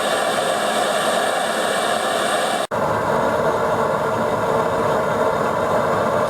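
Two gas blow torches roar steadily while firing wild clay bowls, a loud continuous broadband hiss with an engine-like rumble, broken by one very brief dropout partway through.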